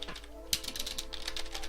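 Rapid clicking keystrokes on a budget backlit PC keyboard, a quick irregular patter of sharp taps, close and fairly quiet, with no speech over it.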